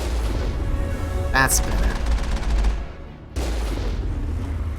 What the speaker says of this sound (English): Whoa. I do have a secondary cannon.